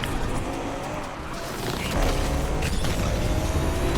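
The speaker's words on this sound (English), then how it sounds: "that's the drafting boost" Racing car in Need for Speed Unbound gameplay using a drafting boost, engine roar with tire squeal and skidding, swelling louder midway through, with a continuous game soundtrack and effects.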